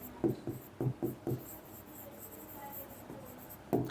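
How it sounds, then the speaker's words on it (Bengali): A pen scratches out a handwritten maths solution, with several short close strokes in a quick cluster, a quieter gap, then one more stroke at the end, and no talking. "সো আমরা লিখব"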